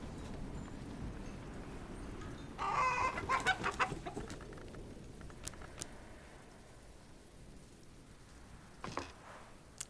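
A chicken in the video game Book of Hours clucks in a short burst of several quick calls, moderately loud, then scattered faint clicks over a quiet background.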